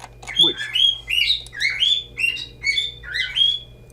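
Bird chirping in TempleOS, a repeating electronic-sounding call of short bright tweets in a steady rhythm, clear and close over a low hum.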